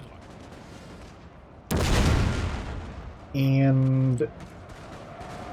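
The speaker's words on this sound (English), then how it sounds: "let's see what this artillery is doing" Artillery fires in a Total War: Napoleon battle, a single loud blast with a broad rolling roar, followed a second later by a sustained tonal in-game horn or cue over low battle ambience; one spoken word opens it.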